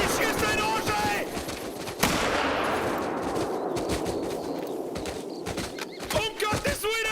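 Rifle and other gunfire crackles in the hunting video game Hunter: Call of the Wild, dense and continuous over steady background noise, with an excited voice talking throughout.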